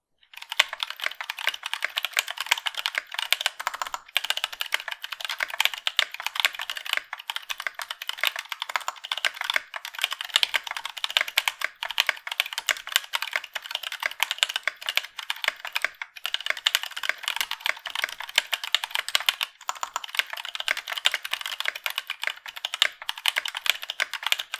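Steady, fast typing on a keyboard fitted with Kineticlabs Penguin tactile switches, a continuous close stream of crisp clacky keystrokes with no talking.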